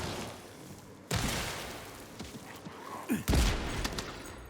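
Gunfire in the video game Atomic Heart comes as a few separated, punchy shots with boomy low tails. Quieter rattles and clanks sit between the louder reports.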